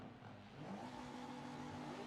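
Touring car engines rev on the starting grid in the video game Forza 7 at Mugello, a steady droning growl that rises slightly and holds at high revs, with no speech.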